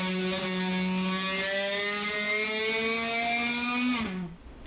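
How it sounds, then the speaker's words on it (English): Electric guitar low E string held at the 14th fret F sharp, bent upward slowly while bowed with a violin bow, giving a loud, buzzing sustained tone that slides up in pitch before dropping off abruptly. "I decided the best way to do it might be to use a bow, like you'd use on a violin or a cello"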